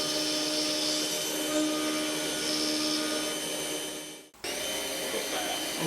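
A milling machine cutting a moon clip, a loud steady high-pitched machining whine that briefly drops out and then resumes.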